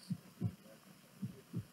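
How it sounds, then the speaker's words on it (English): A heartbeat sound effect: dull, low, muffled thumps in paired lub-dub beats, two pairs in slow rhythm over a faint hum, close and soft. "A dull rhythmic beat, like a heartbeat."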